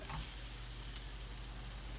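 Clams sizzling steadily in a pan on the stove, a continuous dense frying hiss, close and even, with no talk.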